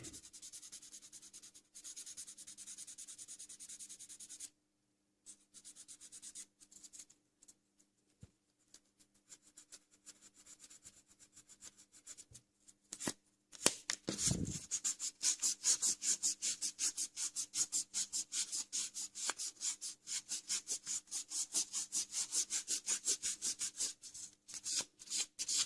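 Worn P600 sandpaper rubs across the body of a Revell 1/25 Dodge Viper SRT10 ACR model kit, starting as sparse scrapes after a quiet gap and building into a fast, steady back-and-forth rasping stroke, close and alone.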